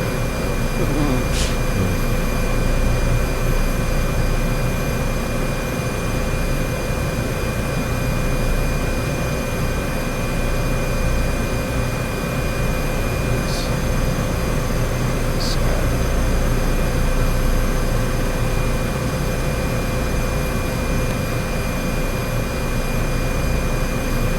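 Citation jet engine in Microsoft Flight Simulator 2024, a loud continuous roar with a steady whine and constant low rumble, unchanging throughout, with faint ticks now and then.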